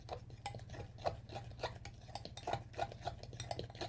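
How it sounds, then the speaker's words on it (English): Cornbread batter with one egg being stirred in a bowl, a utensil clinking and scraping against the side in a steady, quick rhythm of close, repeated taps over a low background hum. "And we'll put that right in there like that, and just mix it up."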